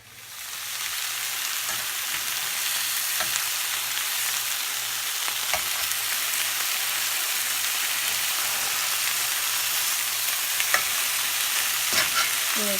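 Chicken pieces browning in a frying pan give off a steady, close sizzle and crackle that runs unbroken throughout, with a few brief clicks and pops scattered through it and no talking.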